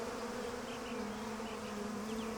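Bees buzz steadily around people standing still among them outdoors in the countryside, a continuous droning hum with occasional closer passes, fairly faint and without talk.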